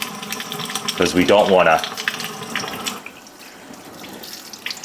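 Gentle tap water runs over a fillet of cured, cold-smoked salmon being rinsed at a sink, a short close splash of flowing water over about a second, with a person talking before and after.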